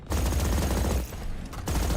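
Rapid gunfire shot through a wall in a Valorant esports match, a dense burst of sharp cracks that pauses briefly and resumes, loud and close within the game mix.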